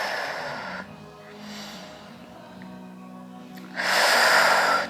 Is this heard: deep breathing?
yes